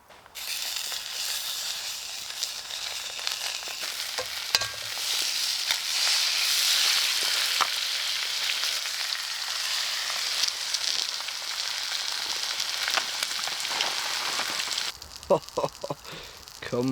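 Two sausages, two bacon rashers and two eggs fry on a Bushbox XL camp stove on a frosty -6°C wild camping morning, a steady close sizzle and crackle that runs unbroken, with a few light clinks near the end.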